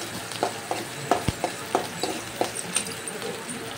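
Onions sizzle and fry in a pan for a brinjal curry while a spoon stirs and scrapes them, leaving a close, steady hiss broken by regular clinking strokes.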